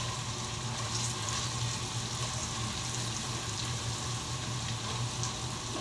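Sliced onions frying in a pan for cubed steak, a steady close sizzle with dense crackling hiss that holds evenly throughout, with no talking.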